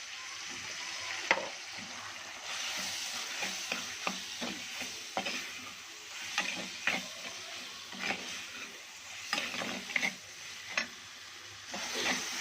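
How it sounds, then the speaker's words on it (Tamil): Chili powder, coriander masala, garam masala and turmeric stirred into sizzling chicken gravy in a frying pan, with a steady frying hiss and repeated scraping stirs of the spoon, close and clear with no talking. "நல்லா எல்லாமே மசாலா படுற அளவுக்கு நல்லா கலந்து விடலாம்"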